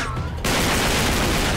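A dense, continuous burst of gunfire in Uncharted 3: Drake's Deception on a ship, a loud rapid fusillade that erupts suddenly after a quieter moment and keeps going.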